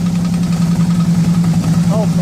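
A 2009 Harley-Davidson Ultra Classic Electra Glide engine idles loudly and close with a steady low pulsing throb after an oil cooler installation; a voice is briefly heard near the end.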